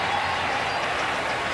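A large football stadium crowd roars and applauds in a dense, steady wash of noise, fired up by a Steelers comeback.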